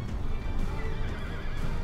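Horses of barbarian horse archers in the game Invasio Barbarorum, with dense hoofbeats and whinnying in a loud, continuous rumble.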